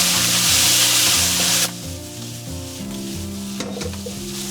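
Aromatics and a ring of cooking wine hit a very hot wok with red chili bean oil, a loud roaring sizzle that eases after a moment into a steady, close crackling fry.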